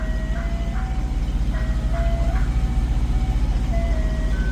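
An ice cream truck jingle plays a simple repeating tinkly melody over a steady engine hum, fairly loud and close.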